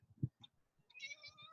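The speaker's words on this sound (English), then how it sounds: "Oh, I have a kitty here." Waffles the cat gives a faint, soft meow, a short, quiet call heard close by in a calm room.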